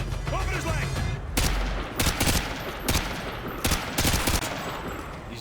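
Gunshots ring out in Call of Duty Modern Warfare 2 (2009), a series of sharp, loud cracks spaced about a second apart over a busy battle backdrop, with a brief radio-style voice early on.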